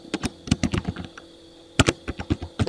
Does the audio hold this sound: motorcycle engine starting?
no